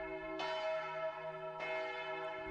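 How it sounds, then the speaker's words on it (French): Church bell ringing from some distance, two clear tolls about a second apart, each with a long humming resonance that lingers over quiet background; no voices. "La cloche qui sonne, elle a l'air d'être à proximité ou un peu loin ?"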